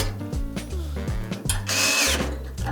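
A power driver whirs in short pulsing bursts while driving screws into the parts of a toy sauna stove, ending with a louder high-pitched spin, close and clear, with no talking.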